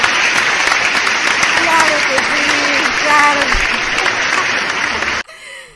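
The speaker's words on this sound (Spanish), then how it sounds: "Un aplauso, claro que sí." Steady applause from a crowd, with voices talking over it, cutting off abruptly near the end.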